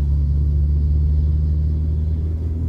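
Car driving along a city road toward a freeway overpass, a steady low engine and road rumble heard from inside the cabin, constant and fairly loud with no talk.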